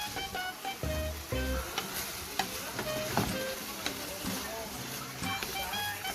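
Ground pork sautés in a pan with a steady, moderate sizzle and intermittent stirring scrapes throughout, with no talking.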